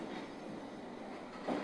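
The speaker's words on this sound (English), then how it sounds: "I can hear a train moving" A London Underground S7 train on the Metropolitan Line toward Uxbridge, from a train-simulator game, rumbles and hisses faintly and steadily in the distance, with a brief louder clunk near the end.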